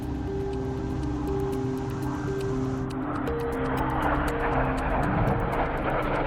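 A Red Arrows jet breaks away in flight: a steady engine drone with faint tonal whines swells into a louder, broader roar partway through, continuous and fairly close.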